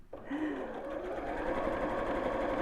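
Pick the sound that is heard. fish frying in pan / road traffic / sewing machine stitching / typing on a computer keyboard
sewing machine stitching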